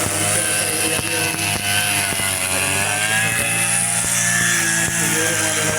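A grass cutter runs loud and close without a break, its engine whine holding a steady pitch and rising slightly at moments, with no talk above it.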